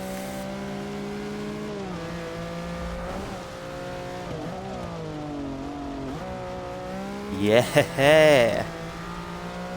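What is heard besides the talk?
Lamborghini race car engine and tires in Forza Motorsport 6 video game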